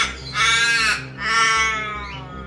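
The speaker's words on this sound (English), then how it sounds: "Next, we have the crow," Two loud, harsh caws from a crow close by, separated by a short pause, with a low steady hum underneath.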